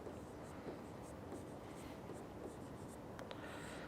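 Pen or marker writing by hand on a board or paper, faint repeated scratchy strokes in quick rhythm, close and quiet with soft background hiss.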